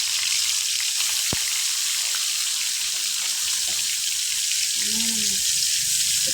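Raw beef being washed under a running tap for a home-cooked beef soup, a steady broadband rush of water at a sink that runs continuously, with a brief clunk partway through.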